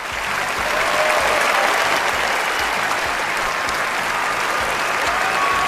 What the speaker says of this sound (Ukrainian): Отут мають бути фанфари та гучні оплески